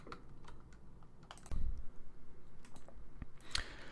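Someone types code on a computer keyboard, a run of close, crisp key clicks in an irregular rhythm, with a few heavier thumps and a sharp click near the end, and no talking.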